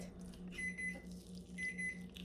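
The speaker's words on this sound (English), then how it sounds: "I'm going to go shut that timer off" A kitchen timer beeps in two high, steady tones over a low pulsing hum, moderately faint in a quiet kitchen.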